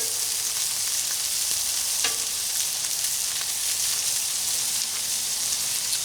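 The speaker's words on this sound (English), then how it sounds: "Get that butter melted." Butter melts on a hot stove burner with a dense, continuous sizzle and fine crackle, loud and even, with one brief clink partway through.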